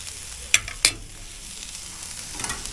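Eggs fry on a Traeger Flatrock griddle with a steady, soft sizzle, broken early by two sharp clicks in quick succession and a brief rise in hiss near the end.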